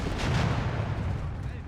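A bazooka squad fires a volley in the Company of Heroes 3 strategy game, a dense rumbling burst of explosive launches and booms under a game mix, with commentary talk nearby.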